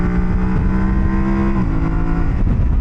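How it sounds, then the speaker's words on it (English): A mid-size adventure motorcycle engine, one that feels gutless near 8,000 RPM, drones loudly and steadily from an onboard position, its pitch holding level then dipping slightly partway through, with no voices. "the engine feels a little bit gutless when you try to rev it out and go a little bit faster"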